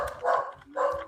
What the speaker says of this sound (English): So The dog agrees.